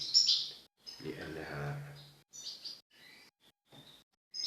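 Goldfinch female and chicks chirping at the nest, high bright chirps and tweets in short bursts, with a voice talking over part of it.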